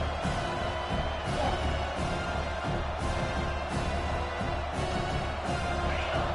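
Football stadium crowd cheering and roaring continuously, a dense, steady wall of noise with rhythmic swells throughout.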